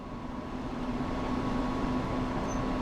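A German train in Train Sim World 5 pulls away very slowly, giving a steady low rumble with a constant electric hum and faint rail noise, near and continuous without any talk.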